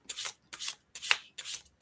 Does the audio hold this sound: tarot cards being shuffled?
yes